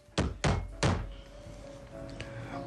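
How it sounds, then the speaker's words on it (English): Three sharp, resonant knocks land on a door in quick succession, close and loud, then fade into a quiet room hum. "there was a knock on the door"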